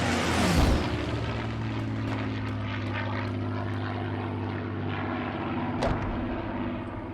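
A propeller airplane in a video game passes overhead with a loud, steady droning engine. The sound swells early and then holds, with a few faint sharp game noises.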